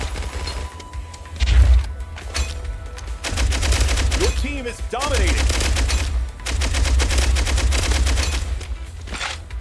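A minigun fires in the video game Pixel Gun 2, loud sustained bursts of rapid automatic fire broken by short pauses, with a few electronic game tones mixed in.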